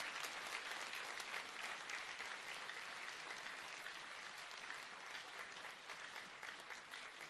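An audience in a hall applauds its leaders, a dense, sustained wash of clapping from many hands that holds steady for several seconds and eases slightly toward the end.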